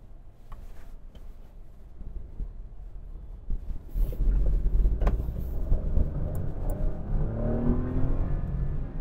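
A car in drive mode accelerates under a hard pedal, gear shifting at 5000 RPM; the engine is quiet at first, then surges loudly with a rising whine that climbs steadily.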